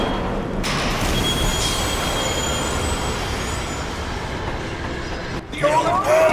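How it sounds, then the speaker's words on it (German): A train rolls along rails in the zombie shooter game Zombie Army Trilogy, a dense, loud rumble with steady wheel noise, ending in a brief squealing scrape. "Dann ein bisschen Zug fahren."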